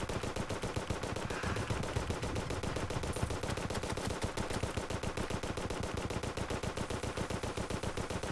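Rapid, sustained volley of shots fired by Morning Wood, the tree boss of the Pumpkin Moon event in Terraria, rattling continuously and loudly throughout, with no talking.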